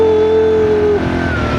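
Car driven by Aya, engine humming steadily up close with a tonal whine that drops partway through, a continuous interior drone with no talk.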